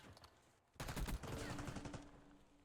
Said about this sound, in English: L is going to be shooting some shots here at the backside.